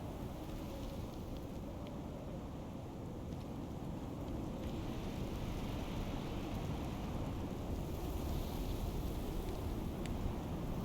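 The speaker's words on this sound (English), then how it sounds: "what I was about to say before the storm rudely interrupted me" Thunderstorm in the game Unearthed, with steady rain hiss and low, continuous rumbling thunder rolling throughout, fairly loud and unbroken, no talk.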